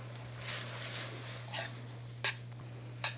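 Butter being stirred into pasta in a pan gives soft sizzling and stirring, with three sharp utensil scrapes against the pan, all close by.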